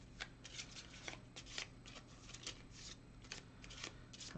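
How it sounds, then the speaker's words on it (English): Skill deck of cards for the Tiny Epic Defenders board game being shuffled, a run of quick riffling rustles and soft slaps close by, steady with brief pauses, over faint low background hum. "let's shuffle the skill deck"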